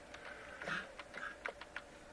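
Light, faint clicks of typing on a computer keyboard, about eight quick keystrokes in an irregular rhythm over a soft background hum, with no voices.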